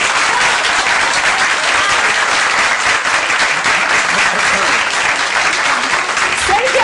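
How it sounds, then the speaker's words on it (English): An audience at a political gathering breaks into loud, sustained applause that fills the room evenly from start to end, with a few voices mixed into the crowd noise. "applause till the end."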